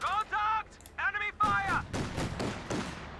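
SVT rifles fire in Company of Heroes 2, a burst of sharp, overlapping shots that follows brief voices, the gunfire crackling and booming in quick succession.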